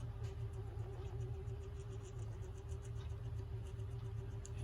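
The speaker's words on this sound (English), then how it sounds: "It's also a very noisy motor." Small, noisy electric motor spinning inside a Sessions ship's wheel clock, a steady low whirring drone with a faint tonal whine, continuous and fairly quiet with no talk.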